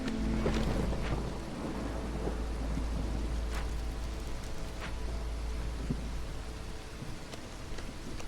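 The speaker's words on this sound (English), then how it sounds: "Roll into the second storm real quick here" A fantasy city-building game's storm: steady rain hisses over a low, constant rumble, with scattered faint cracks and distant thunder rolling beneath it.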